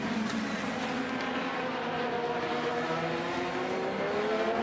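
IndyCar race cars at the Children's of Alabama Indy Grand Prix, a continuous loud engine roar with rising and falling pitch as cars run past, sustained throughout.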